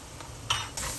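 Fried rice seasoned with curry powder being stir-fried in a pan, with soft sizzling under scraping stir strokes, two louder bursts of sizzle as the spatula turns the rice, close and steady.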